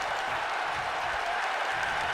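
Wrestling crowd in WWE 2K19 cheering and chanting in a steady, dense roar from an arena audience, filling the whole moment without pause.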